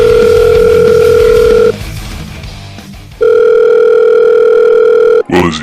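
A telephone dial tone plays as a loud, steady, unbroken hum in two long stretches, separated by a short quiet gap, and ends with a click.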